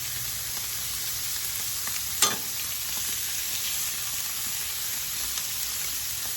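Oil sizzles on a griddle of a Masterbuilt 560 Gravity Series grill, a steady close hiss with a brief louder scrape or splash partway through, no talking.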